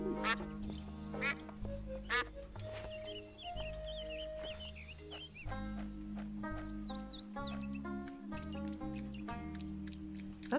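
Duck quacks from the Escape from Monkey Island PC game, a few short nasal calls scattered over steady game music and background sound effects, no talking.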